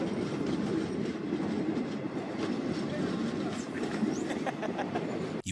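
A train rolls steadily along railway tracks in Uganda, a continuous loud rumble with faint rhythmic rail clatter throughout.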